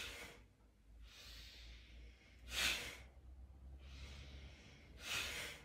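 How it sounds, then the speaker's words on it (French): Forceful Bhastrika breathing exercise, with sharp, airy inhales and exhales alternating in a steady rhythm, about five strong breaths, close but fairly quiet. "On va continuer avec Bastrika. Donc, j'inspire, j'expire."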